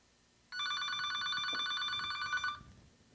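A telephone bell rings in one continuous trill lasting about two seconds, then stops abruptly. It is fairly clear against a quiet room background.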